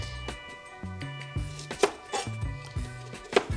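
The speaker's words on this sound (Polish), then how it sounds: "Cebulę pokroję na ćwiartki" A knife chops onions into quarters steadily on a cutting board, a run of crisp, close knocks in an uneven rhythm with a few sharper, louder strikes.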